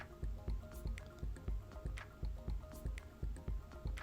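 Sour cream and egg yolk dropping into kefir in a bowl, giving repeated soft wet drips and squishy plops at an irregular pace, close and fairly quiet.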